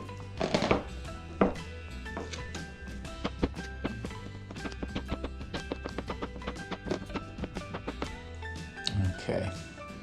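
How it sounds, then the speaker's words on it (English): A knife chopping rotisserie chicken meat on a cutting board, a run of rapid sharp taps with a few heavier knocks, close and clear, while a person talks over it. "I'm just gonna run the knife through this a few times."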